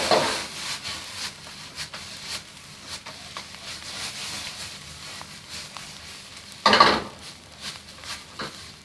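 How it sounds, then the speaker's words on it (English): Egg is scrambled into pork fried rice in a pan: steady scraping and stirring with faint sizzling throughout, plus a louder clatter of utensil against the pan near the end. No one speaks. "We can start scrambling it in with our rice."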